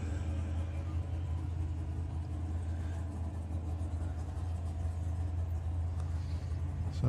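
Volkswagen drag racing cars, including a little Lupo, running at Santa Pod Raceway, heard as a steady, dense low engine rumble held at even loudness throughout, with no voices.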